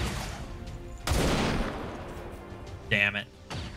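Gunfire in XCOM 2 bursts out as a couple of heavy, booming shots with lingering rumble, closely spaced and loud, with a short metallic ringing tone afterward.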